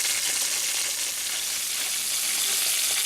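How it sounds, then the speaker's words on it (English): Pork chops heavily coated in pepper fry in a pan with a loud, steady sizzle and hiss, close up and unbroken, with no voices over it. "Here you see my pork chops completely peppered and cooking now."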